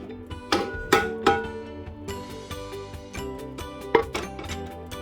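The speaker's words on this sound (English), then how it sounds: "Remove the bread pan from the unit by twisting anti-clockwise and up." A Panasonic SD-253 bread maker's metal bread pan being twisted anti-clockwise and lifted out of the unit, giving a few sharp metallic clunks and clinks over faint background music.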